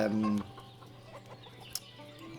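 Chickens clucking in the village-building game Ostriv, a brief loud cluck at the start followed by scattered softer clucks and faint farmyard noises.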